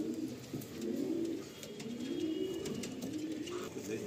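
White-headed pigeons cooing in a loft, with soft rolling coos repeating steadily and close by against a low background hum.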